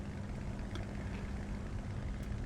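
Hawker Typhoon Mk Ib propeller aircraft engine in War Thunder, a faint, steady droning hum held evenly at a distance with no talk.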